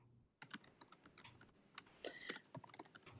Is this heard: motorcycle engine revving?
no